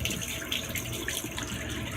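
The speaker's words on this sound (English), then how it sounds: "I'll begin by getting some hot water and pouring it on just to allow it to bloom" Hot water pours steadily onto a puck of shaving soap to bloom it before a straight-razor shave, a continuous close splashing trickle with no talk.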